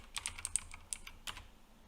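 A computer keyboard being typed on as a passphrase is entered: a quick, irregular run of close, quiet key clicks in a silent room, followed by a brief pause and a couple more taps.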